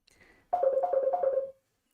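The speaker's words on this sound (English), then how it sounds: "Someone is ringing." A telephone rings indoors, a single tonal ringing burst with a fast warbling pulse lasting about a second, fairly close and clear, preceded by a faint softer tone.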